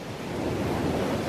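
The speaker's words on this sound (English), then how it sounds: "This is the beach." Ocean waves wash steadily onto a rocky beach in Peru, a continuous, dense roar of surf with some wind rumble, close and fairly loud throughout.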